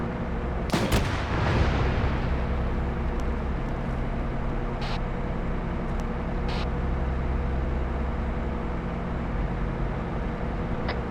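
Gunfire erupts in one heavy, close blast, followed by a few faint, distant shots over a continuous low rumble.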